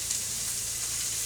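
Carrots dropped into a pan of onions cooking in oil, with no salt or pepper yet, sizzling steadily and close up as a bright continuous hiss with no talk.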